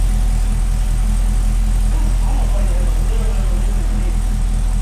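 A Cadillac CTS-V with Texas Speed headers idles loud and close, its steady low, pulsing rumble continuing under a voice talking.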